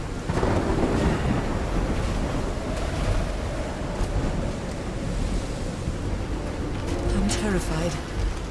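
In the video game Call of the Sea, a thunderstorm roars over a beach with a wrecked ship and reefs, a dense continuous rumble of rain, wind and surf with rolling thunder throughout.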